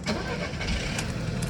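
A Volkswagen Vento starts and runs after a battery replacement: a loud, close engine turning over and catching, then a broad, continuous mechanical roar that lasts under two seconds.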